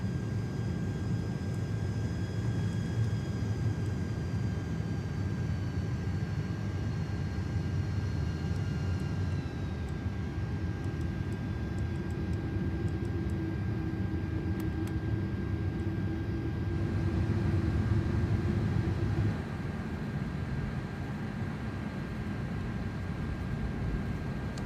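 Airbus A330-300 airliner engines in Microsoft Flight Simulator hold a steady, loud, broadband roar with a faint whine, swelling slightly near the end, with no talk.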